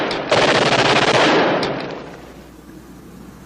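Rapid automatic gunfire rattles loudly in a 1960s World War II television drama, a dense sustained burst of shots that fades out after about two seconds into quiet, with a sharp new crack at the very end.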